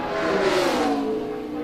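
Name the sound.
Denny Hamlin's FedEx number 11 Camry race car accelerating during qualifying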